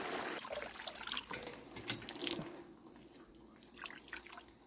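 Warm wash water drains and trickles from raw Icelandic wool onto an outdoor deck, faint steady dripping and splashing with a few sharper drops.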